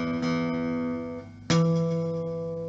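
A sustained E note rings with rich overtones, its harmonics including the E and G sharp, then is struck again halfway through, the note swelling and slowly decaying; no voices.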